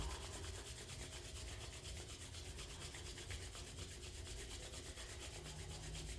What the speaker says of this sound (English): bring the hands together and just rub them together